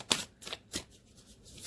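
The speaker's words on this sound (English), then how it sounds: "I'm just shuffling behind the camera because it's just a little bit easier for me" Tarot cards are shuffled close by, a few quick crisp riffling taps followed by faint rustling.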